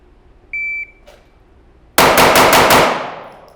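Five rapid pistol shots crack out in a tight, fast burst at a 5-yard range, loud and sharp with a ringing tail, preceded by a brief electronic beep from a shot timer.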